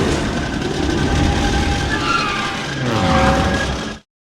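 Podracer engines from The Phantom Menace roar in a steady, dense, continuous drone with a whining tonal edge, loud and close throughout, swelling slightly near the end before cutting off abruptly.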